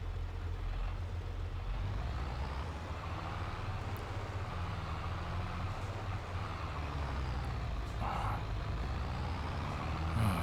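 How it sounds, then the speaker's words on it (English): Truck traffic on a road in Farming Simulator 22: a continuous low engine rumble and drone from heavy vehicles that stays steady and fairly loud throughout, with a brief hiss like an air brake near the end. "Traffic, guys."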